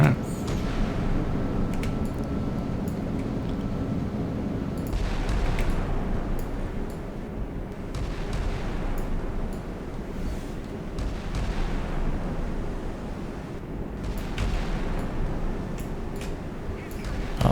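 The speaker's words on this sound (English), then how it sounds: "Just ships firing guns." Naval ships firing their guns in the video game Sea Power during a tight strait transit, a continuous rumble of distant booming artillery with repeated heavy reports and crackling impacts rolling over a low mechanical drone, fairly loud and sustained.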